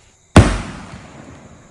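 A small rocket firework lit for Diwali in a mobile game goes off as one sharp, loud burst that decays into a fading crackle.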